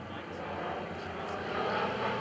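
An F4U-5NL Corsair propeller fighter at an airshow in Boston–Portsmouth, its engine a continuous broad roar that swells slightly as it passes; no talk is heard over it.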